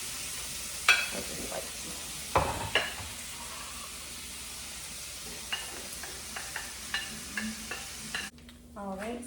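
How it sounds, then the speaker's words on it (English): Green peppers and onions sauté in a pan with a steady low sizzle, broken by a few scraping stirs and utensil clinks; a voice speaks briefly over it. "So I'm gonna go ahead and saute my green peppers and onions"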